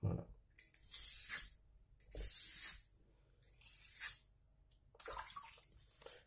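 Water is sprayed onto a 2000/6000 grit BearMoo whetstone in four separate hissing bursts, each about half a second to a second long, with short quiet gaps between them, close and without talk.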